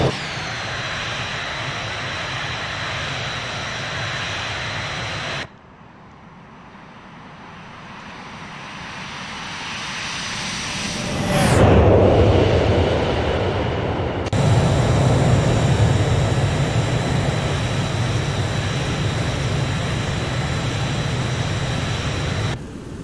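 Simulated Boeing 727 jet engines drone steadily in flight, the sound shifting as the view changes: a loud hum, a quieter muffled stretch swelling to a rushing peak, then the steady roar again.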